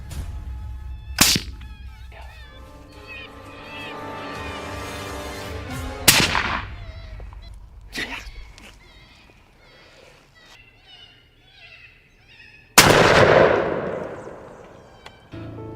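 Sharp, loud gunshots from a bobcat hunt ring out with echoing tails, separated by quieter stretches of outdoor sound and some background noise; one blast near the end is especially strong.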